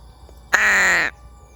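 A black bird, likely a crow, gives one loud, harsh caw lasting about half a second, close by and alone against quiet background.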